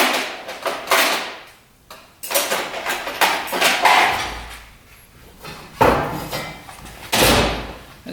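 A screwdriver scrapes and picks at rust on an old, rare motorcycle: harsh, close scratching bursts with sharp metallic knocks in between, irregular and fairly loud, with no talking.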